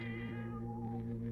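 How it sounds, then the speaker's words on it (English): A cat meows in an old-time radio mystery drama, a drawn-out tonal cry held over a steady low hum, close and moderately loud with no talking. "That cat belonged to my wife."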